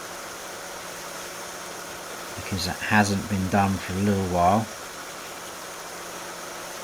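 A tractor in Farming Simulator 19 idles in a low, steady mechanical hum throughout, while someone talks over it briefly in the middle.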